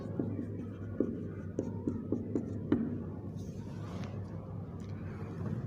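Chalk or marker writing on a classroom board while noting the symbol for helium, heard as a run of faint taps and short strokes over a low steady hum, with no one speaking.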